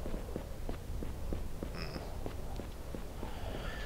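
Footsteps from the video game Aidyn Chronicles: The First Mage tread in an even rhythm, soft and faint against a quiet ambient background, with a brief high chime partway through.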